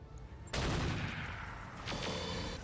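Mech weapons in the BattleTech mod RogueTech open up in a loud, sustained barrage of overlapping shots, then a second volley hits and keeps roaring to the end.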